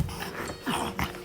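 A bulldog growls and whimpers close by in a short, continuous run of low rumbling and whiny vocal sounds, with no one talking.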